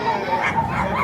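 Audience at an interactive children's play imitating the barking of hunting dogs, a dense chorus of many voices yapping and woofing together, loud and continuous.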